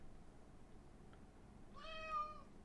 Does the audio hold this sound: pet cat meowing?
yes